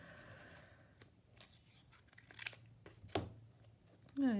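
Scissors snipping paper for a scrappy glue book, a few short soft cuts and crinkles close by, faint and sparse, with a brief voice at the end.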